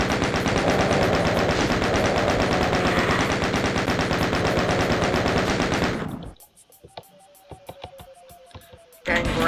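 Rapid automatic gunfire from Doom 2 hammers loudly and continuously for about six seconds, then cuts to near silence broken by sparse clicks and a faint tone before another loud burst at the very end.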